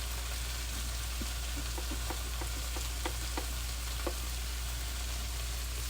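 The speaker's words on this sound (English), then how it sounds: "I'm cooking this chicken till I get a little bit of crispiness to it" Chicken and day-old rice frying in a pan for Filipino adobo give off a steady close sizzle, with scattered pops and crackles running all the way through and no talking over them.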